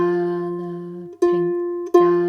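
Harp notes plucked on the F string in a galloping rhythm, sustained tones with two clear re-plucks, close and clear, no voices.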